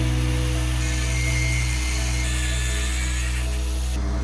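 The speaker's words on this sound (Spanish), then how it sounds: "Debemos cortar todas estas piezas en forma de colmillos de hierro" Power tool cutting the iron claw-shaped pole pieces of an alternator rotor, a loud continuous high whine with a steady low drone, shifting slightly in pitch as it bites.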